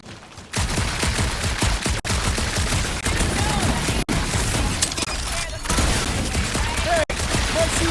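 Rapid bursts of gunfire in the video game Marvel's Guardians of the Galaxy, loud and nearly continuous shots in a dark alien setting, broken by a few brief gaps, with no talk over it.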